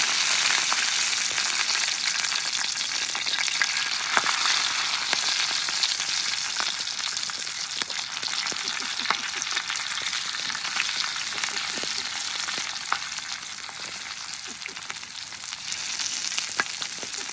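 Stuffed green chillies (bharli mirchi) frying in oil in a pan, a steady close sizzle with dense crackling pops running throughout, no voices.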